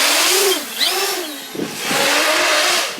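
Cannonball 800 X-Class FPV racing quadcopter on a 12S pack, flying line of sight in direct sunlight: a loud, steady high-pitched motor whine that rises and falls in pitch as it swoops and accelerates, continuous throughout.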